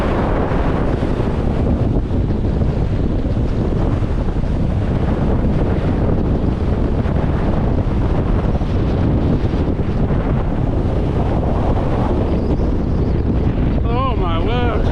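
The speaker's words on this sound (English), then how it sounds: "Oh, I've not felt wind that strong since we got" Strong wind batters the microphone on an open fell while hiking Skiddaw in the Northern Fells, a continuous loud roaring buffet with gusting rumble throughout.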